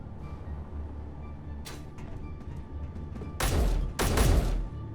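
A weapon turret in Space Engineers fires in bursts: a faint shot early, then two heavy booming blasts close together near the end over a low mechanical hum.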